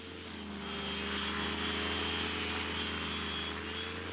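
A 260-pound microlight aircraft's propeller engine runs at a steady, loud drone while taking off on skis in Iceland, with a constant low hum and a broad, airy roar over it.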